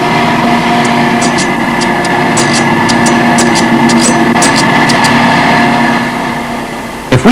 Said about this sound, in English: Flute milling is one of several processes the drills must go through